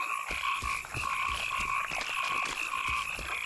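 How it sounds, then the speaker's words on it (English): Swamp frogs from The Witcher 2 croak in a thick, continuous chorus, their overlapping rhythmic calls loud and steady from start to finish. "You get like a real frog choir"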